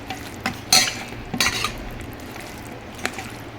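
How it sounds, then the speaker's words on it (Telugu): Chicken is mixed with chili powder and spices for Karnataka-style Dhonne chicken biryani, with a few sharp scrapes and clinks of a utensil against the bowl over a quiet background. "లైట్గా కొంచెం కారం వేస్తున్నానండి. మొత్తం కలుపుకోవాలి."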